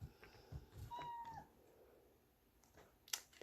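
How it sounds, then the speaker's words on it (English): A pet cat named Rex gives a single short meow indoors, faint and close, with a few soft bumps and rustles before and after and no one talking. "It's my cat that's about to come into the picture."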